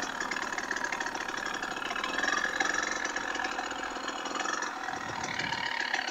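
A KTM 300 TPI two-stroke dirt bike engine idles steadily while warming up in 110-degree heat, a close, busy rattling putter that holds at an even level for several seconds without speech.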